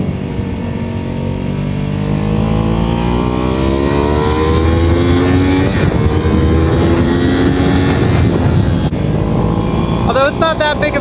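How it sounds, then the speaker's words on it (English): A small classic motorcycle is ridden at speed, its engine droning loudly and steadily with rising and shifting pitch as it accelerates, plus wind rush close to the rider. "Although it's not that big of a bike, this will do 105, allegedly."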